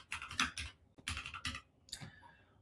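Fingers tap on a computer keyboard in quick bursts of keystrokes with short pauses between, close and fairly quiet.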